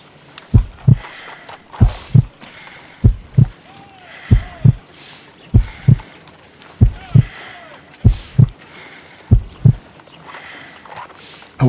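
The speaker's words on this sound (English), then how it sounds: "I need to concentrate and count the heartbeats." Slow, heavy heartbeat from the Sherlock Holmes: Crimes and Punishments game, deep paired thumps repeating evenly and loud, with faint tonal hum and brief sounds between beats.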